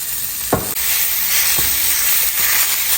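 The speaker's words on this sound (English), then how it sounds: "take this cast iron and start cooking any ground meat that you would like" Ground meat frying in a cast iron pan, giving a loud, steady sizzling hiss with a couple of brief sharp crackles.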